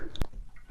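Neighbors' dogs give a single sharp bark, then a loud burst of barking at the end of the clip, fairly close and clear against a quiet background.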